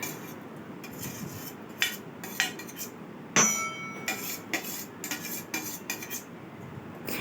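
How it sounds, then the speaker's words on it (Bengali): A metal spoon stirs semolina and egg in a bowl, clinking and scraping against the sides in an irregular rhythm, close and moderately loud, with one sharper knock partway through. "এখন চামিচ দিয়ে এটা আমি ভালোভাবে নেড়ে চেড়ে নেব।"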